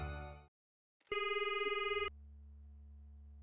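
Telephone during a call in the Promise Mascot Agency video game, a short electronic tone burst and steady ring tone followed by a low hum, clear and alone.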